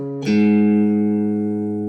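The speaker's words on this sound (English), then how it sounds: "I'm going to play each string one time so you can tune your guitar to E flat." A single guitar string is plucked once and left ringing, a clear sustained tone slowly fading, close up and alone. A string tuned down to E flat.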